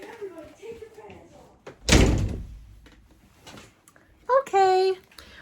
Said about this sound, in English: I got to shut this door.